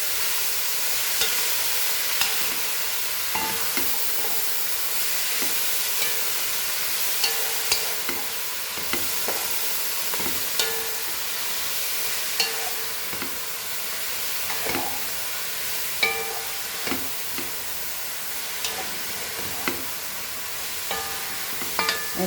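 Goan cabbage vegetable frying on a high flame, stirred in the pan. A steady sizzle and hiss runs throughout, with soft scrapes and clinks from the stirring, and no voices.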